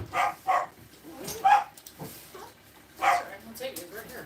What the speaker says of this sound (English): As the dogs go wild.